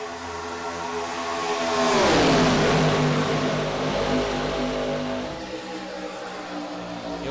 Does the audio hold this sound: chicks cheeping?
no